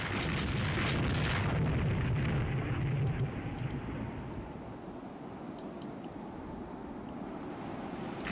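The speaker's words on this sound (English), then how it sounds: "that's Picard opening fire" Naval gunfire from battleships in the naval warfare game Rule the Waves 2: a loud, sustained rumbling boom that swells early and then rolls off into a lower, steady roar, with faint sharp crackles above.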